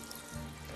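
Water pours steadily from a medieval chante-pleurs vessel for rinsing, a continuous close splashing stream with no talk.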